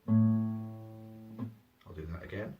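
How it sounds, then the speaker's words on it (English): An electric guitar's low 6th string is plucked at the 5th fret and rings out with a long sustain, then the open 5th string follows at the same pitch, both notes played cleanly and alone during tuning. "I'm going to play this 6th string at the 5th fret first."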